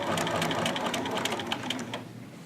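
A sewing machine runs steadily at close range, sewing short reinforcement stitches with a continuous rapid whir that eases slightly near the end.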